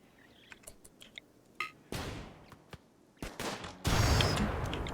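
Gunfire from hunting boom rats in the video game RimWorld, with a few scattered sharp cracks followed by several louder, longer bursts of shots that overlap into a rough fusillade.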